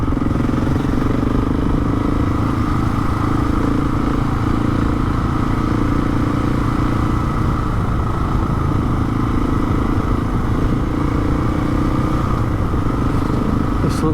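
A Husqvarna 701 Enduro motorcycle ridden over Hardknott Pass, its engine a steady, loud, close throbbing drone with rumbling wind noise that holds throughout without a break.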